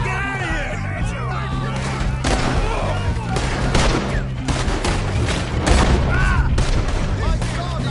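Rapid gunfire rattles through a Red Dead Redemption 2 shootout, shots cracking in dense bursts over a constant low rumble, with shouting voices mixed in throughout.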